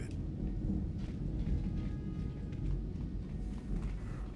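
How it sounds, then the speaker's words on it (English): Rolling thunder rumbles through a rainy storm scene in the video game Star Wars: Knights of the Old Republic, a steady low roar with soft swells and no clear single crack. "Jeez, thunder."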